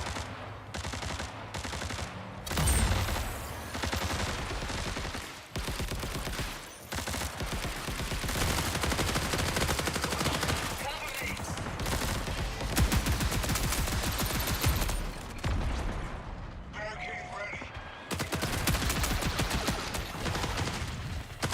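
Rapid automatic gunfire from the video game Marathon, an extraction shooter, rattles in long sustained bursts with brief pauses between volleys, loud and dense throughout.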